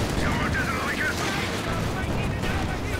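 Panzer IV tank fire and battle noise in Company of Heroes 2, a dense continuous rumble of explosions and gunfire with a caster talking over it.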